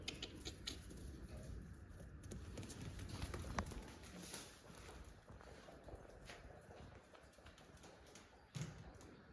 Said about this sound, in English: now it's time to feed the lambs and give them a mad half hour running around in the barn